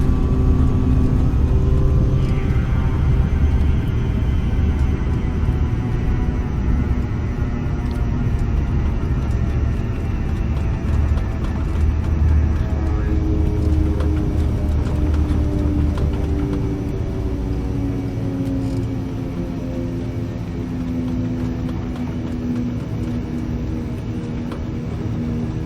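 An airliner landing in the X-Plane 12 flight simulator in low visibility, giving a steady loud engine rumble and whir with slowly shifting tonal lines, a descending whine early on, and no voices.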